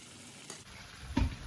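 Yogurt is poured into mutton biryani masala in a pan, a soft background sizzle broken by a short thick splat and a burst of frying near the end.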